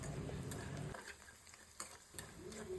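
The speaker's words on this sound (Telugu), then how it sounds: "ఇవి మనకు బ్రౌన్ కలర్ వచ్చేలా మనం ఫ్రై చేయాలండి." Taro root (chamagadda) frying in oil: a sizzle that drops away after a second, then a few sharp ticks and clacks of a utensil against the pan, close and fairly quiet.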